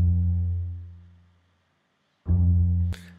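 Bass section in Logic holds a deep, sustained root note F that slowly fades, then returns after a pause and ends with a brief bright noise burst.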